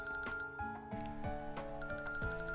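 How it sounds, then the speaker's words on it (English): A phone rings in a visual novel video game, a bright electronic ringtone repeating in quick melodic pulses, steady and clear for a couple of seconds without speech. "My phone rang."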